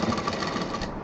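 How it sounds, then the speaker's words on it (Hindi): A sewing machine stitches a straight seam on a large fabric shopping bag near its zip belt, whirring in a steady, close, rapid mechanical rhythm without pause. "अब इसको हम सीधा सिल के ले आएंगे"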